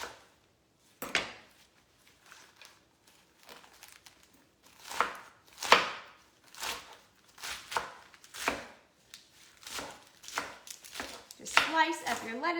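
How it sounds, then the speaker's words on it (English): Knife chopping red leaf lettuce into long slices on a cutting board, a series of crisp, irregular cuts in short bursts, with a few louder strokes near the end. "for our red leaf, I just do long slices"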